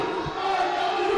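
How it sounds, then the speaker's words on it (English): A wrestling crowd roars wildly at the Artesia Youth Center during a Christmas indoor show, a dense sustained wall of cheering and yelling that stays loud throughout with no pauses. "The crowd here at the Artesia Youth Center going absolutely insane."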